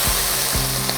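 Vinegar poured into a hot pan over roasted garlic, giving a steady broadband sizzle that flares briefly as the liquid hits, loud and close with no talking.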